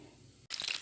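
Eggs with pepper hit hot oil in a pan and break into a loud, bright sizzle after a moment of quiet, the crackle rising and staying busy to the end.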